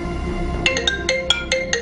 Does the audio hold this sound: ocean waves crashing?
no